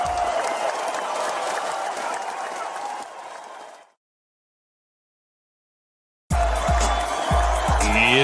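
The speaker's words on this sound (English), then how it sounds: "I mean, I was clapping. I couldn't really help it." Loud, dense applause from a crowd during the opening of a comedy podcast episode, sustained for several seconds, fading into silence, then bursting back in with heavy thumps.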